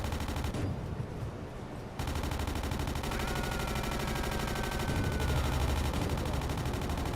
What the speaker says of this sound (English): Just depth charges.